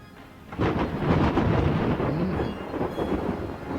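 Rolling thunder with crackling lightning, a loud dense rumble that swells in after a quiet half-second and keeps going steadily without any voices.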